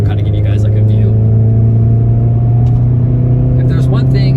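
A 2020 VW GTI MK7.5 pulls away and climbs a hill, its engine giving a steady low drone from inside the cabin with road rumble, while a person talks over it.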